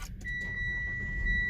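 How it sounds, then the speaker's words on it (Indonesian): A Mitsubishi Xpander Sport A/T 2020 facelift starts from its push button: a brief chime, then a steady electronic tone holding over a low idle rumble, heard close from inside the cabin. "tekan start stop button yang ada di sebelah kanan ini untuk menyalakan mesinnya"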